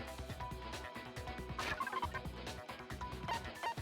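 A chicken clucking in the video game Danganronpa: Trigger Happy Havoc, quick choppy clucks repeating in short bursts over a low musical bed, moderately loud and close.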